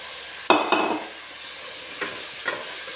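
Chopped eggplant is stirred and fried in a pan for masala vangibath. A sharp utensil scrape comes first, then softer stirring strokes over a faint sizzle.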